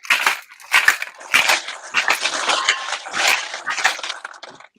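Ice for a rum cocktail being scooped and shaken, a close run of crunchy cracks and clattering rattles in quick uneven bursts, loud with no talk.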